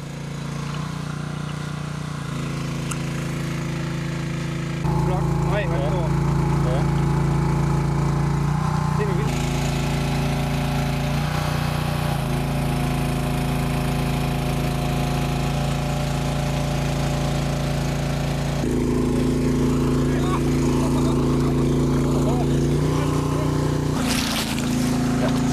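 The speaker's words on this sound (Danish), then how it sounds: "generatoren i båden leverer strømmen" A generator runs steadily aboard a boat used for electrofishing of trout, a loud continuous engine drone with strong low harmonics that shifts in pitch and load several times.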